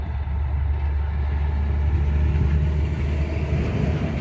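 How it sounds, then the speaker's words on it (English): A big flatbed truck hauling a heavy load rolls past nearby, a loud, deep, steady engine rumble with road noise and no talk. "It's a big truck, flatbed. Looks like they're hauling either equipment or hay or something. Something heavy going out."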